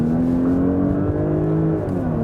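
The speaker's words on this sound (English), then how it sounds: "when I then hit the throttle all the way through, you will see that the combustion engine is being activated" A Porsche Cayenne Hybrid plug-in hybrid accelerates at full throttle with its combustion engine running, a loud, steady engine drone that rises smoothly in pitch, heard from inside the car with no talking.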